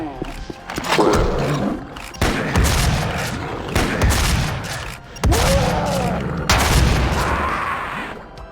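Gunfire and a self-inflicted explosion in the video game Doom, loud roaring blasts repeating every second or two, heavy and harsh, with a voice talking over the shots.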